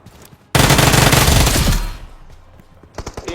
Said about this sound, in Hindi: अब यहाँ पे मेरे सामने फायरिंग हो रही थी